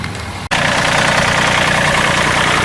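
A farm tractor idles with a steady, loud mechanical drone that continues after a brief cut at the start, hooked to a truck while hauling manure to till into a garden.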